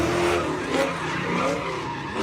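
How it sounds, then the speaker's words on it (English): A Corvette doing donuts, its tires squealing and skidding in a continuous loud screech over a revving engine. "The video shows the Corvette that you're listening to and another car doing donuts."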